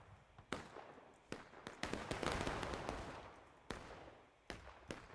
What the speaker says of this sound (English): Confederate artillery is back online.